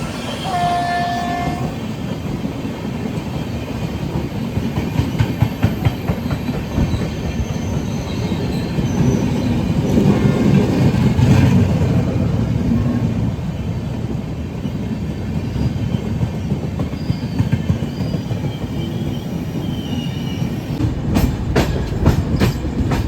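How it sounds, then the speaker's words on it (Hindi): The Matsyagandha Superfast express on the Konkan Railway rushes past during the monsoon with a loud, steady roar of wheels and carriages, a horn near the start and rhythmic clatter toward the end. "My favourite train Matsyagandha superfast. क्या भागती है यार।"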